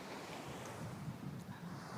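Ocean waves washing onto a beach, a faint, continuous low surf rumble mixed with wind buffeting the microphone.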